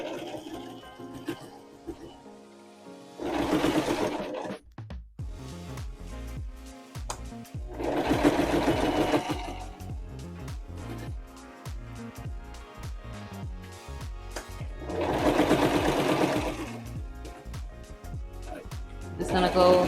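A sewing machine stitches a handmade bag in three bursts of rapid mechanical whirring, separated by pauses filled with clicks and handling noises, with a voice talking between bursts.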